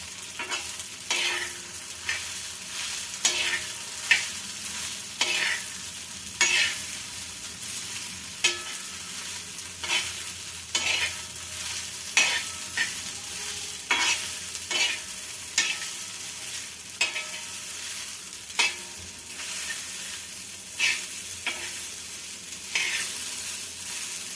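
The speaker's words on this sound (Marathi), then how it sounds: "तर छान असं इथे परतून घेतलेला आहे आपण साबुदाणा तुम्ही बघताय" Sago (sabudana) is stirred and fried on an iron griddle: a continuous soft sizzle under repeated sharp scraping clicks from the spatula, coming in an irregular rhythm up close.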